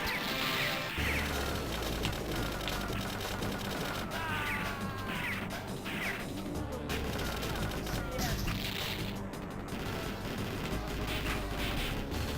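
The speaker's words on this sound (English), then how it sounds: "Shooting bombs out of midair" Rapid gunfire and blasts from the arcade shooter Shock Troopers as bombs are shot out of midair, a dense continuous barrage of game shots and explosions with layered effects throughout.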